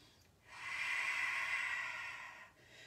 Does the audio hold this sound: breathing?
yes